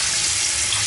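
A brand new kitchen faucet turned to hot gushes water at high pressure into the sink, a loud, steady hiss close by with no talking.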